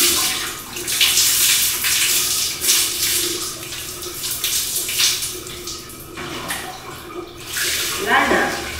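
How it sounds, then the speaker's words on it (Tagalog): Water runs steadily in a bathroom as someone bathes, a continuous splashing wash that rises and falls, with brief louder gushes and a voice speaking faintly over it. "Ligo nga ako."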